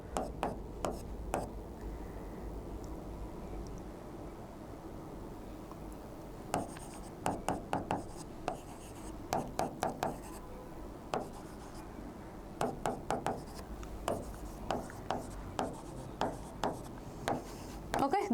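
A chemistry diagram drawn by hand, with pen or chalk strokes making scattered quick taps and scratches. They come in short bursts, some clustered and some spaced apart, over a quiet room tone, with occasional faint speech.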